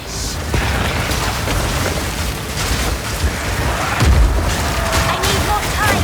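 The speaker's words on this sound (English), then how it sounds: "Qué buena bomba." A bomb goes off during combat in the video game Path of Exile 2, a deep rumbling boom rising from a dense, noisy mix of battle effects. The explosion swells near the middle-to-end of the clip, with a voice speaking over it.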